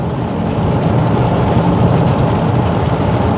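Rain drums steadily on a car moving at highway speed, with a dense, loud wash of water and road noise that holds constant throughout.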